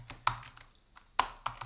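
Quiet, close keystrokes tap on a computer keyboard in a few irregular clicks and small bursts, faint against a soft background hum, while a person works through a puzzle walkthrough.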